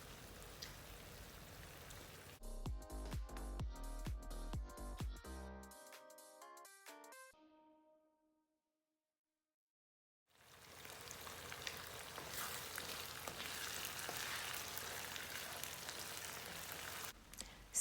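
Ghanaian garden egg (eggplant) stew frying in a pot over low heat gives a steady, rain-like sizzle, with a few clinks early on, a brief pause, and then a fuller, continuous sizzle.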